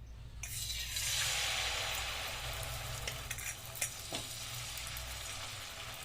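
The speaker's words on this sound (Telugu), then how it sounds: "దోశ ప్యాన్ పెట్టుకుని దోశ వేసుకోవాలి" Potato dosa batter frying on a hot dosa pan: a steady close sizzle that swells as the batter hits the pan, with faint scraping and clinks under it and a low hum beneath.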